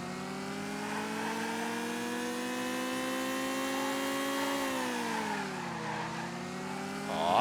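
A car driving in the video game Dreams, with a steady droning engine held at high revs throughout, dipping briefly as it shifts, then rising again near the end. There is no talk.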